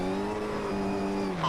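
A front-wheel-drive rally car on a loose gravel surface in the racing game Richard Burns Rally, its engine holding a steady loud tone with a slight pitch shift, heard through the game mix.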